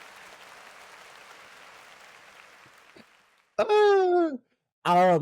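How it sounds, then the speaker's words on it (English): A soft applause sound effect plays behind a podcast host, a steady low wash of clapping for about three seconds that fades out before a voice starts talking. "Insert that audio claps right behind me."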